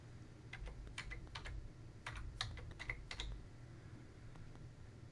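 Quick, close keystrokes on a computer keyboard typing a trail name, irregular bursts of clicks over about four seconds, then trailing off into quiet.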